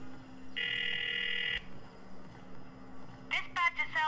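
A phone call ringing tone: a single sustained electronic ring lasting about a second, followed by quiet line hiss, then a short burst of chirpy electronic tones near the end.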